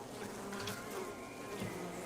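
Bees buzz around a shrub with a continuous, faint, wavering drone and no voices.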